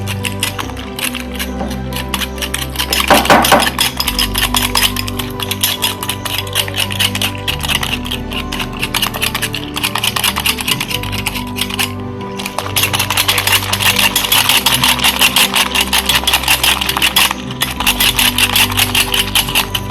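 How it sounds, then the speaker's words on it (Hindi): Egg mixture for a bread omelet is whisked briskly in a bowl, producing a fast, continuous run of rattling clicks that ebbs briefly and resumes, loud and close with no talking. "इन सभी को अच्छे से मिक्स कर लेंगे"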